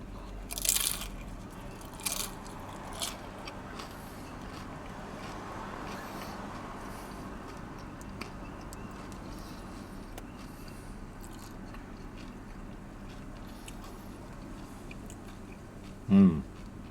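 Someone bites into Domino's loaded nachos with spring onions and ground beef, a few sharp crunches early on, then quiet chewing over faint background hum and a final loud crunch.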